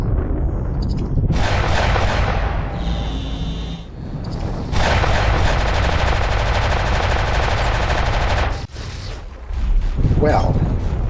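Weapon fire in the space game X4 Foundations: sustained rapid machine-gun-like bursts with booming impacts, loud and continuous across most of the stretch with brief pauses, mixed with game effects.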